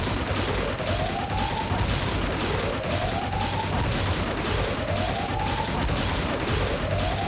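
Aircraft cannon fire in the Xenonauts 2 air combat video game comes as sustained rapid bursts under a dense roar, with repeated rising whooshing tones sweeping through, steady and moderately loud.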